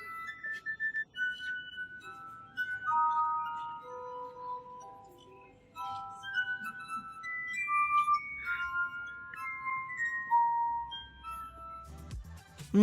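Wet fingertips rub glass rims on a glass harp, playing a theme from Harry Potter as sustained, ringing, bell-like tones that glide from one pitch to the next, clear and close, with a few small clinks near the end.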